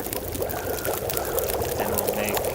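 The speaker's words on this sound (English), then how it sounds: "Melt some snow or boil some water" Water bubbles and pours steadily in The Long Dark, with a continuous watery rush and gurgle from a pot heating over a fire in a snowy survival setting.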